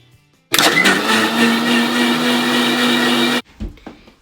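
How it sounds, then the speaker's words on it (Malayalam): A kitchen blender whirs pineapple, lime juice, sugar and water, starting abruptly into a loud, steady motor roar for about three seconds, then stopping dead with a brief clunk afterward. "ഇനി നമുക്ക് ഇതെല്ലാം കൂടെ കൂടി നന്നായിട്ടൊന്ന് അടിച്ചെടുക്കാം"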